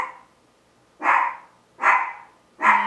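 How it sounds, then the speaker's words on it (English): A pet dog barks three times indoors, sharp single barks spaced about a second apart, moderately close with quiet between them and no talking. "And my dog is barking."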